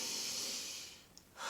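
A single slow, deep breath is drawn during a breathing exercise. It is close and soft, a breathy exhale that fades out, followed by the start of a fresh inhale.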